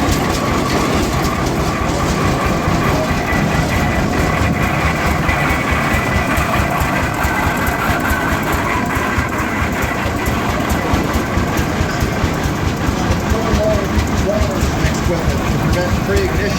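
A steam engine and a Rumley kerosene Oil Pull tractor run during a parade, producing a loud, constant rhythmic chugging and clattering that pulses evenly without pause.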